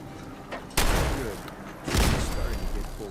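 Gun firing in the video game Fallout 4: two loud, sharp blasts about a second apart, each with a short rumbling decay, close and dominant over a faint background.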